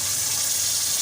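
Water poured into a pot of arvi gosht (meat with taro root), a loud, close, steady splashing gush that fills the whole moment with no talk.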